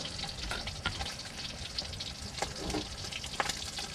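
Sweet potato leaves fry in a pan with onion and garlic, a continuous soft sizzle with scattered crackles and pops, fairly quiet and close, with no talking.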